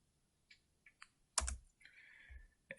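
Quiet computer keyboard typing: a few scattered light key taps, then a firmer press like the enter key, followed by a soft trailing sound and one last click, all close and alone.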